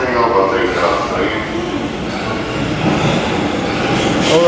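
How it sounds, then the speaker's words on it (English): A last train pulls into Ueno Station, Tokyo, at night, with a loud, continuous rumble of rail cars and wheels. A voice speaks over the rolling noise. "This is the last train. We made it."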